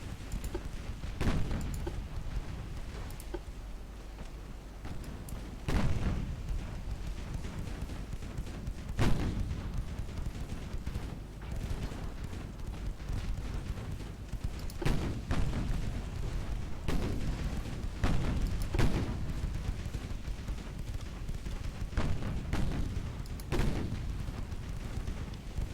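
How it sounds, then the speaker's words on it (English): Naval guns on a light cruiser in a video game fire repeatedly, heavy booms landing every few seconds over a constant low rumble, loud and close throughout. "Guns are going everywhere."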